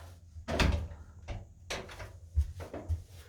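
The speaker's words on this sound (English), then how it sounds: "I'm just going to close the door." A toilet door in a house being closed, giving a few knocking thuds and rattles as it swings and latches, close and moderately loud, with no talking.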